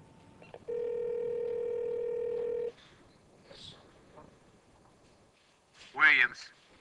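A wall phone's handset gives a steady, clear dial tone for about two seconds, then cuts off, leaving soft handling noises and a brief, louder sound near the end.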